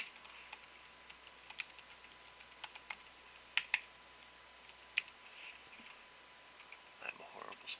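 Sparse, quiet clicks of keys on a computer keyboard come in short irregular bursts while someone writes and edits ad text, close and soft against a low hum.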